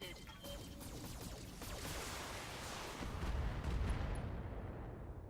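Mech weapons all firing together in the BattleTech video game, a dense wash of rumbling blasts and crackling impacts, quiet overall with a heavier booming surge near the end.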